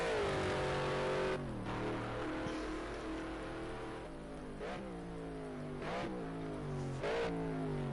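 A race car engine drones and shifts through gears in a wet-weather racing game at Road America, rising in pitch, dropping on each upshift and braking, with a steady hiss of spray under it.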